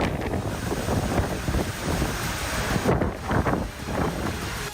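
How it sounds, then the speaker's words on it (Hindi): Strong hurricane winds and heavy rain lash Florida, a continuous loud roar of gusting wind buffeting the microphone with surging waves of noise and no voices. "फ्लोरिडा में करीब 200 किलोमीटर प्रति घंटा की रफ्तार से हवाएं चली और मूसलाधार बारिश हुई।"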